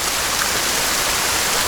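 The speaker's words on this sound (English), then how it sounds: "there comes the rain, so let's head inside" Steady, loud rain pours down in Sons of the Forest, a dense, unbroken hiss that fills the whole moment with no other sounds.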